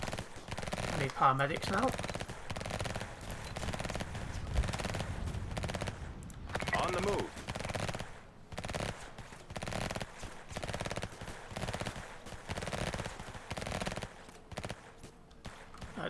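Gunfire crackles in bursts during a SWAT operation in the video game Emergency 2024, with automatic-weapon rattles and shots mixed among radio chatter and game sounds while a voice speaks over them.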